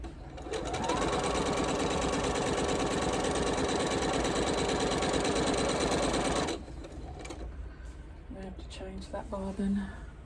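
A sewing machine stitches a quilt row in a rapid, steady mechanical whir for about six seconds, then stops, leaving quieter room sounds and brief handling noises.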